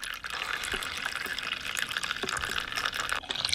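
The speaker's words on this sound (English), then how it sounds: "I think it's time to flush a toilet" A toilet flushing, with a steady rush of water gushing and pouring for several seconds, fairly close and loud, with no talk over it.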